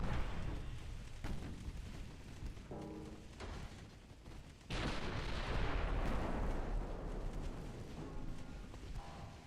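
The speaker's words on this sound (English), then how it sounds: "We're shooting a destroyer all the way back there." Naval gunfire in the warship game Ultimate Admiral Dreadnought, firing on a distant destroyer: heavy booming cannon blasts with long rumbling tails, one big salvo midway, loud against a constant sea and battle din.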